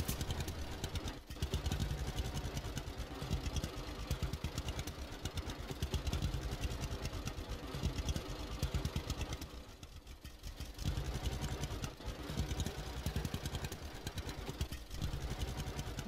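A tractor engine idling in the video game Lumberjacks Dynasty, a steady mid-pitched chugging rumble that runs throughout, dipping briefly near the middle, with no voices over it.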